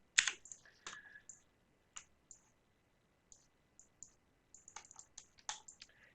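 Sharp, close key taps and mouse clicks sound alone in a quiet room while building an Unreal Engine blueprint, arriving in scattered single hits and short clusters.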